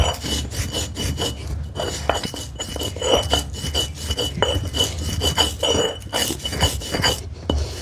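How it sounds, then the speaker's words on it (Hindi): Garlic cloves, ginger, turmeric and asafoetida being ground on a silbatta grinding stone, a steady loud rasping scrape as the stone rocks back and forth in a continuous rhythm, close up and without speech. "इसको फिर से डाल देंगे यहाँ सिलबट्टे पर, और इसी के साथ साथ इस प्लेट में रखी हुई ये सारी चीज़ें डाल देंगे। लहसुन की कली, अदरक, हल्दी"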